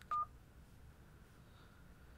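A Motorola Moto X phone dialer gives a single short, clear keypad tone near the start, followed by quiet room hiss with no talking.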